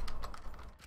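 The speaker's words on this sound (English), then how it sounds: "There's my keyboard again." Quick keyboard typing during a Danganronpa V3: Killing Harmony play session, a brief flurry of close clicking keystrokes with no voices.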